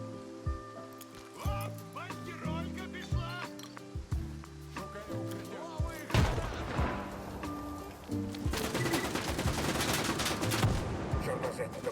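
Shotgun fire in a video game, several close blasts amid a busy, layered game soundscape with music-like tones and dense clatter later on.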